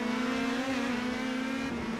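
An Indy Pro 2000 open-wheel race car roars steadily in iRacing on the Montreal circuit, its engine holding a loud, close, droning pitch that dips slightly and recovers as it runs on without pause.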